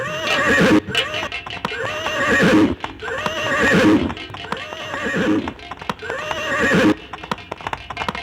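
A horse neighs loudly several times in a row at close range, each whinny long and wavering, with hoof clip-clops and a busy stage setting behind.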